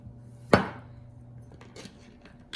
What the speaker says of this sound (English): I'm just gonna start by chopping the zucchinis, just the ends of it